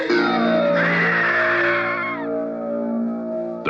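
A long, loud, sustained scream, high and wavering, from a horror movie trailer for The Toolbox Murders, ringing alone with a tonal drone underneath.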